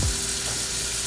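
Steak searing in a hot pan gives off a loud, steady sizzle and crackle that carries through the whole short moment with no voices over it.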